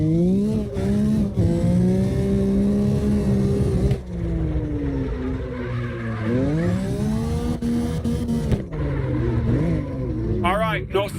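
A car spins and drifts in CarX Drift Racing Online, the engine revving up and down in sweeping pitch with tire squeal at the end, heard close and loud beneath someone talking.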